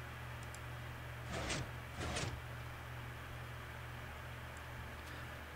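In Minecraft, a door slams shut once the lever power is cut, giving two short, dull thuds in quick succession over a steady low hum, fairly quiet and with no voices.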